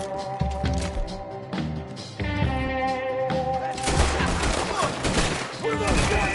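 Gunfire in a Western shootout in Red Dead Redemption 2 crackles in rapid overlapping bursts, loud and dense, thickening into a sustained fusillade under a musical score and occasional voices.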